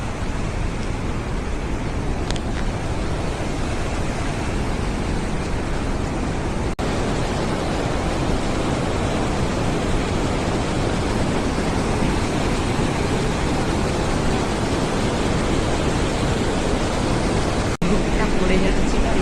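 Rushing water at Bhimkund in Keonjhar pours from several sides into one pool, a loud, continuous, broadband roar heard up close for the whole stretch, with a voice speaking faintly beneath it.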